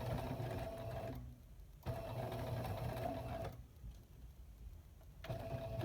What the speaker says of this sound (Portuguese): eu vou costurar dessa forma, encostando aqui no pezinho de máquina.